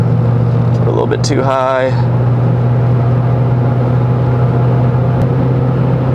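A Ford 6.7L Powerstroke diesel truck pulls at highway speed, its engine holding a steady, loud low drone while slowly working up toward sixth gear; someone speaks briefly over it near the start.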